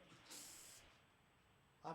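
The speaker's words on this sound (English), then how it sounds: "I'm spraying Lysol on the mic" Lysol disinfectant sprayed onto a radio studio microphone, one close hissing burst of about half a second, then quiet, with a brief second sound starting at the end.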